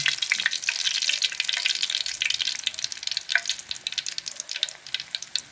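Tilapia fish frying in hot oil, a steady dense sizzle with crackling pops that fluctuates in intensity throughout, close and fairly loud with no talking.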